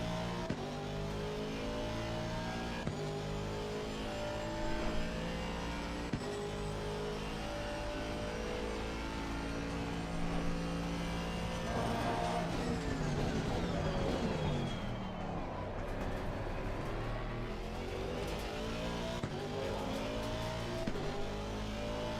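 An Aston race car in Assetto Corsa Competizione drones steadily near and loud, its engine pitch sweeping up and down through gear changes and corners, with occasional shifts and brief tire noise, no voices over it.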